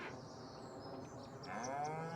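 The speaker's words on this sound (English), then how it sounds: "20 dairy cows." Dairy cows in Farming Simulator 25 low steadily in a long, drawn-out moo that swells louder toward the end, heard alone over a constant ambient farm background.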